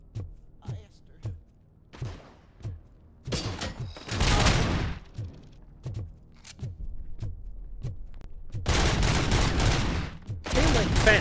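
Gunfire from a heavy gun in RoboCop: Rogue City, with sharp repeated shots at first, then long loud sustained bursts that fill the scene, and a few thuds between them.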